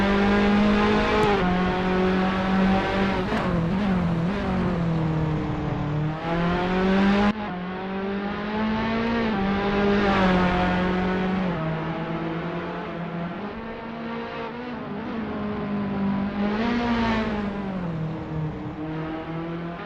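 Formula Alfa racing car engine in a sim race, howling loud and close throughout, its pitch rising and falling through repeated gear changes and corners, with a brief drop in level midway.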